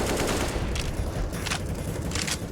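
Rapid bursts of pistol gunfire in a Counter-Strike match on the Nuke map crackle in dense overlapping volleys, loud and continuous with sharp transient clusters throughout, no talking.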